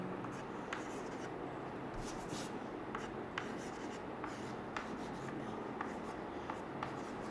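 Chalk or marker scratching steadily across a board during an atoms and molecules lesson, with short repeated strokes over a constant room hum and no talking.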